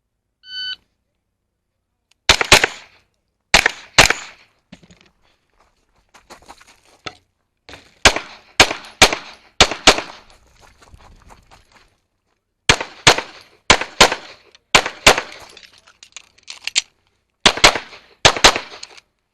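Pistol gunfire on a shooting competition stage: loud, sharp shots fired in quick bursts of two to four, separated by short pauses, with a start beep at the opening.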